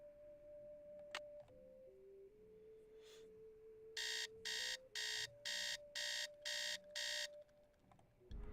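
Alarm clock in the Nancy Drew game Secret of the Scarlet Hand beeping in seven even, rapid pulses, loud against a faint, steady tonal game background, with no talking.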